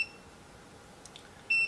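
A VEVOR 12-inch foldable oscillating standing fan gives a single clear electronic beep near the end as it is switched on by remote, following a faint quiet room with a couple of soft clicks.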